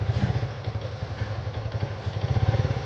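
A motorcycle engine runs close by with a throbbing, pulsing idle and a few clattering knocks. No voices are heard over it.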